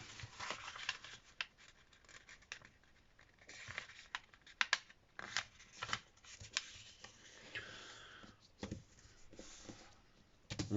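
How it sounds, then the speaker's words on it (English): Paper is folded and creased by hand to make an origami heart box. Faint, close crinkles and soft rustling taps come in irregular bursts with no voice. "Then you're going to want to fold it in half the other way as well."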